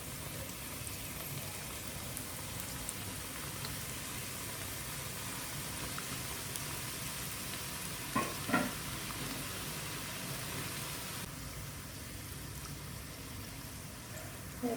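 Chicken keema karanji, stuffed pastry half-moons, fry in hot oil with a steady, dense sizzle that holds evenly throughout, close and moderately loud, broken by a couple of brief soft knocks midway and no talking.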